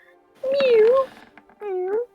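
A person imitates a cat's meow with two drawn-out, wavering calls, the first longer and bending in pitch, the second shorter after a brief gap, close and clear against quiet.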